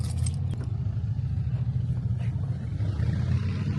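Busy highway traffic heard as a constant low rumble of passing vehicles, steady and moderately loud, with faint scattered sounds on top and no clear voices.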